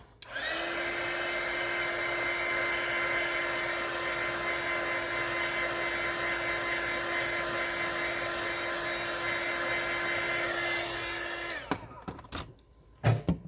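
A hair dryer runs steadily and loudly for about eleven seconds, drying paint on an upcycled craft cross, with a strong constant whine, then cuts off, followed by a few faint clicks and handling noises.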